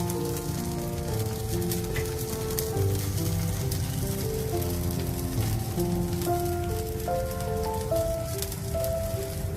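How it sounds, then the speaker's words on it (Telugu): A spoonful of ghee sizzles in a heated pan, a continuous crackling hiss with small pops, close and steady the whole time with no talking. "ప్యాన్ కొద్దిగా వేడెక్కాక 1 స్పూన్ గీ యాడ్ చేస్తున్నా."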